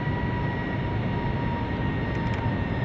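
Boeing 757-300 engines throttled back to reduced power in Flight Simulator X give a constant airy cabin drone with faint steady whining tones, alone and unchanging.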